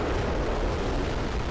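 A loud sustained rumbling blast from an explosion in the real-time strategy game Supreme Commander: Forged Alliance, played with the Total Mayhem mod. It is a dense, roaring burst filling the whole moment with no voices.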